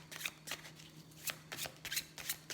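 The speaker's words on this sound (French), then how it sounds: "Je vais prendre une carte de l'oracle de la magie de la Terre, juste une" A deck of Earth Magic oracle cards is shuffled and handled. Soft, crisp card flicks and riffles come close and quiet, in an irregular rhythm, over a low steady hum.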